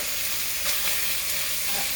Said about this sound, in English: So this bacon is going to fry all up.